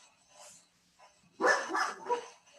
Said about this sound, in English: it's the dog.